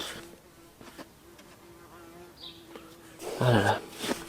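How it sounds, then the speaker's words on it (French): A wasp buzzes faintly and steadily in the background, outdoors beside an air rifle test with a compressor nearby, and a voice speaks near the end. "J'aime pas ça la guêpe moi."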